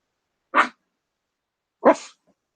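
Two short, sharp barks from a small dog named Lily, close by and separated by a pause of just over a second, with silence around them.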